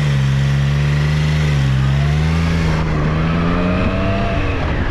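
Triumph Trident 660 motorcycle engine humming steadily at moderate revs while riding on a coastal road, its pitch wavering slightly as the throttle shifts, loud and continuous without voices.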